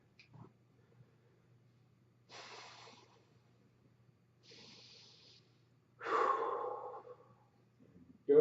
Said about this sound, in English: Take 2 to 3 big breaths